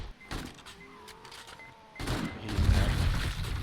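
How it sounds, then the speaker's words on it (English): An exploding zombie in 7 Days to Die bursts some distance away. After a quieter stretch with faint tones, a sudden loud blast gives way to a sustained, rumbling roar. "Something exploded."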